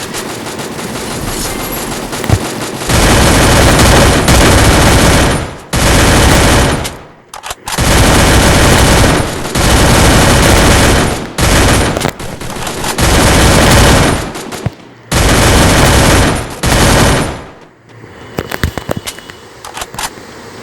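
Rapid bursts of automatic gunfire from the shooting video game Free Fire, loud and close, come in several long sustained volleys separated by brief gaps, followed by scattered single shots near the end.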